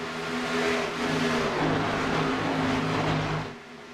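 Race cars battle around the Kansas blacktop oval, a loud, steady engine roar with droning pitch that swells and holds, then eases off near the end as the pack moves past.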